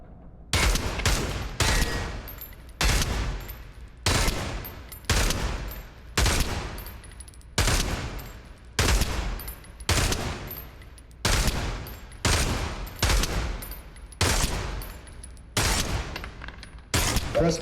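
Rapid bursts of gunfire in a VR shooter game tutorial at a target range, about a dozen sharp volleys repeating at a steady rhythm with brief gaps between them.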